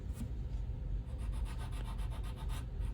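Rapid back-and-forth scraping across a surface, worked side to side in a steady rhythm of short rasping strokes, close and continuous with no voices.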